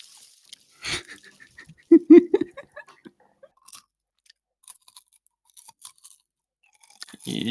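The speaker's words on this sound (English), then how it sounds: "perfectly following the munching" Someone munches on something crunchy near the microphone, with sparse, irregular crisp bites and chewing crackles, a louder cluster early on, then scattered quieter crunches and breaths.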